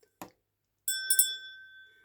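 A little altar bell, set on a mirror, is struck twice in quick succession, its clear metallic tone ringing out and slowly fading, with faint soft knocks before and after.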